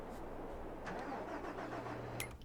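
An engine cranks and catches on a farm vehicle in Farming Simulator 22, a low steady rumble throughout, with a brief higher clatter near the end.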